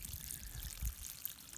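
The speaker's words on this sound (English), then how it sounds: "So now there's water coming out" Water gushes and pours out of a market-garden irrigation field line as it clears out residue and air, a steady close splashing flow with a brief heavier surge partway through, no voices.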